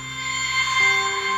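A synth patch called 'chime nebula' in Omniverse, built from two oscillators, rings out as sustained bell-like tones that shift pitch partway through, steady and fairly loud with no voices.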